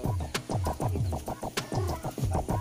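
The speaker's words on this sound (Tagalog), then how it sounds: "ito yung manok nung bibigay sa atin ng kuya ko" A chicken, a gift from a relative, clucks repeatedly at close range on a farm, with a quick rhythmic series of calls and no talking.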